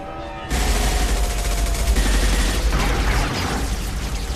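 A sustained barrage of gunfire in Mass Effect 2 erupts suddenly after a quiet half-second and stays loud and dense, with rattling shots and booming impacts that blend into a continuous roar.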